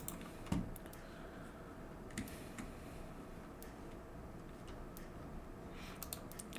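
Light, sparse typing on a computer keyboard, scattered individual key clicks with pauses between them, quiet and close over a low background hum.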